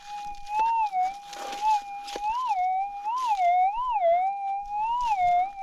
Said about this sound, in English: I got my first little signal here